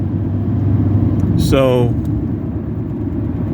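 A car drives past close by, its engine and tyre noise swelling and fading over steady road rumble, with a brief spoken word just before it goes by.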